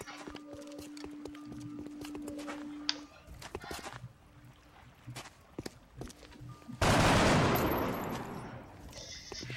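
Video game gunfire pops in sharp, scattered single shots alongside clopping hoofbeats and a steady hum, then a loud sustained burst of noise erupts near the end before fading, with occasional speech.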